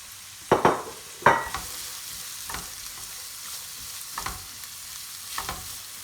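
Onions and garlic fry in a pan with a soft, low sizzle. A few sharper stirring scrapes come early, then sparse, gentle clicks and pops, with no talking.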